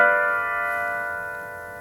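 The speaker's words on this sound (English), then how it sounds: "That's the sound of a harmonized chord scale." A single chord from a harmonized C major chord scale rings out alone, sustained and bright, fading slowly over nearly two seconds.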